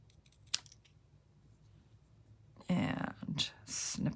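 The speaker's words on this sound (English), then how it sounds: "And then we're just going to snip it here." Scissors snip paper while a Stampin' Up! card is being made, a few crisp close cuts with a short earlier click, as a voice talks quietly nearby.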